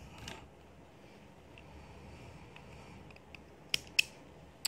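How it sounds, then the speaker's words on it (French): Small scissors snip embroidery thread flush against a fabric napkin, giving a few sharp, close, quiet clicks near the end after a soft rustle, with no talking. "je vais pouvoir couper à ras"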